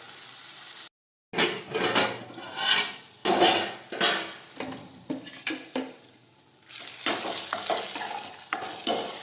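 Tomatoes for a Gujarati ganthiya tomato curry sizzle and simmer in a pan while a spoon scrapes and stirs them in repeated bursts. There is a steady frying hiss underneath, and the pan is heard alone without talk.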